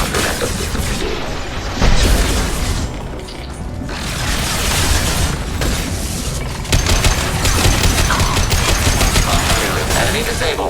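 Gunfire in Mass Effect 2, with loud, dense fusillades, booms and crashes filling the whole stretch and a sharp burst near the two-second mark. A faint synthetic voice may sit beneath the barrage.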